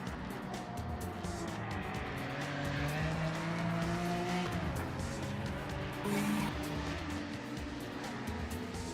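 Porsche 962 race car engine in the racing game Project Motor Racing, a steady droning whine with rising and falling harmonics as gears change, tyre squeal and other cars mixed in, continuous throughout at moderate level.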